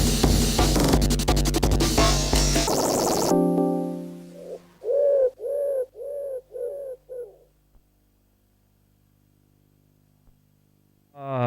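A pigeon coos at the end of a music track. Loud music stops, then about five distinct, rounded coos come in a quick, even series, followed by near silence.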